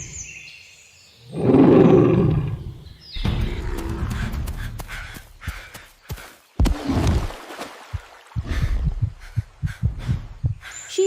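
A lion's roar used as a story sound effect rises loud and rumbling for about two seconds, then gives way to a busy run of thumps, rustles and sharp knocks.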